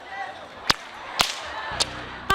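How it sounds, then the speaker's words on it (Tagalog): A bullwhip cracks four times in a bullwhipping contest, sharp loud snaps spaced about half a second apart over a faint background murmur. "para patunugin ang latigo"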